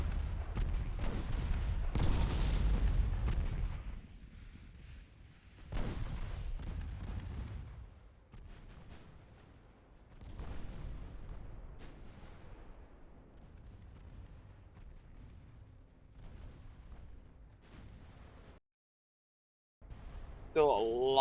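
Naval 3.9-inch guns fire in Ultimate Admiral Dreadnoughts, a ship battle game, booming in heavy distant bursts that swell and fade over rumbling background, with a speaking voice over parts of it.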